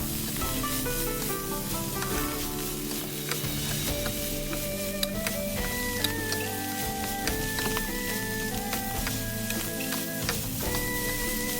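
Chinese wheat noodles with ham and chopped spring onions sizzle and crackle in a hot pan while a utensil scrapes and clinks against the metal in quick, irregular strokes.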